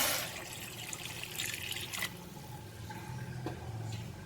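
Water is poured from a glass into a bowl of chicken drumsticks, a steady close splashing and trickling rush with small surges, continuing throughout without talk.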